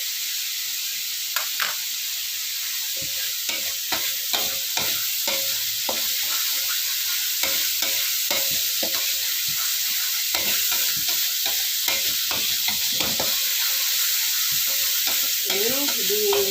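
Crushed spice paste fries in a pan, a steady sizzling hiss broken by repeated scraping clicks of a spoon stirring at an irregular rhythm, close and clear.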